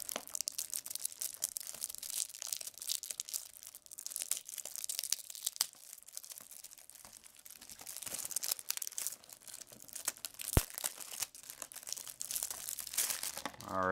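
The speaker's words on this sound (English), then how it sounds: "Taking off all that wrapping." Plastic shrink wrap crinkles and tears off a Magic: The Gathering Wrack and Rage deck box in a steady stream of close crackling, with a few sharper pops and no voices.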